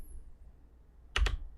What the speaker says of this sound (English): you have to hit the F key on your keyboard to get more